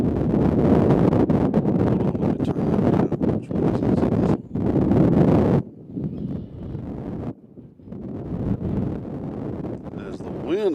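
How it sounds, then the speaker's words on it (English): Wind gusts buffet the microphones outdoors at Nashville International Airport, a loud, rough rumble in bursts, broken by short lulls around the middle before it picks up again. "Wind has started blowing here pretty seriously."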